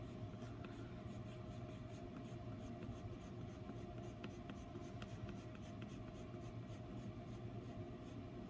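A Prismacolor colored pencil with a very flat tip works small concentric circles into paper, giving a steady, soft scratchy rasp that runs continuously up close with faint tapping ticks scattered through it.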